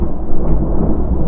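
Steady rumbling thunder and rain outside, heard indoors as a continuous low roar with no voices.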